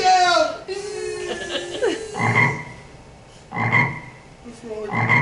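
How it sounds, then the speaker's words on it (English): Frogs croak in a stage play, with loud, rasping bursts coming in rhythmic pulses, about three croaks spaced a second or so apart, after a stretch of human voices. "The frogs are coming."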